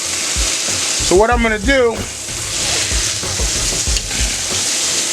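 Steaks sizzle on a grill and get flipped, a steady broadband fry hiss running throughout with a few soft scraping turns, while someone talks over it near the start.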